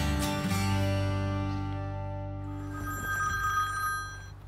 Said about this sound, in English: The phone rings, and there it is, Coach Herron